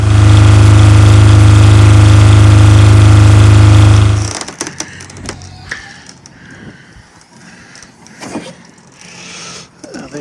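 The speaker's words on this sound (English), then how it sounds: "So the Lombardini LMG9000 marine generator lives in this locker here." A Lombardini LMG9000 marine generator engine runs loud and steady inside a port-forward locker on a sailboat, a deep constant drone that cuts off after about four seconds, leaving quiet clunks and handling noises.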